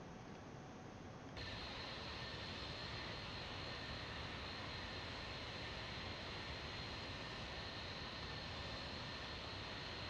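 Engine of an Epic E1000 aircraft in a flight simulator, a steady, dense turbine roar with a high whine that suddenly rises and holds constant, loud and uninterrupted.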